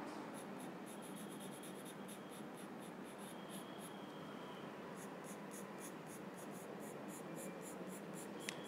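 A pencil shades dark hair on paper in firm strokes that follow the hair's direction, giving a steady, close scratching rasp with quick repeated strokes in rhythmic bursts, alone with no talking.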